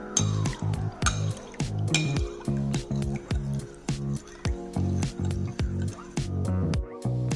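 Spoon clinking and swirling rhythmically against a glass while stirring curry leaf and ginger juice, a steady run of close, bright taps and liquid sloshing with no talk.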